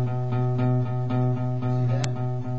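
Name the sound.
acoustic guitar low E string strummed without palm muting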